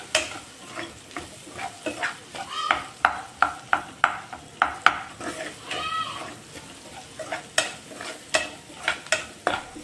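Onions frying in oil sizzle steadily while a spoon scrapes and taps the pan in an uneven rhythm, close and moderately loud, with no one talking.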